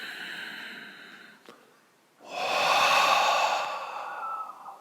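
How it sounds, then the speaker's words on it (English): Deep breathing during a yoga flow, one long audible exhale, a short pause, then a slow, loud, close inhale through the mouth that holds steady before easing off. "One more time, breathe in."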